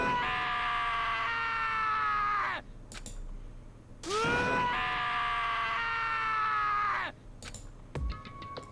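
A Danganronpa character named Taka lets out long, anguished, sobbing screams in the game, three loud drawn-out wails with short gaps between them and a few faint clicks.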